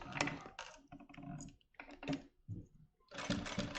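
A sewing machine stitches a zipper onto bunched fabric for a vanity case, running in several short bursts of mechanical whirring with brief pauses between, close and fairly loud.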